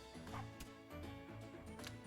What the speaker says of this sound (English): Dog on dog violence. They're just shooing each other away.